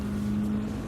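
A race car engine revving hard in a racing video game at Watkins Glen, a sustained steady high drone with no pauses, loud and continuous.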